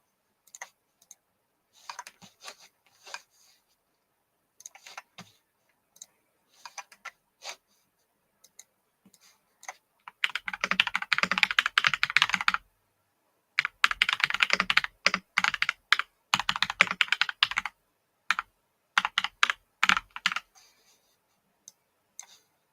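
Rapid clicking from a backlit computer keyboard, in scattered keystrokes at first and then dense bursts of fast typing with short pauses between them, close and crisp, with no talking.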